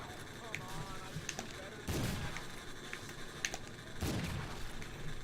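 Two sharp, booming blasts go off a couple of seconds apart in Call of Duty: Infinite Warfare Zombies, amid steady gunfire and game noise, with a voice speaking briefly underneath.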